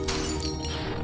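A wine bottle falls and glass shatters, a sudden sharp crash followed by a dense, bright clatter of breaking glass.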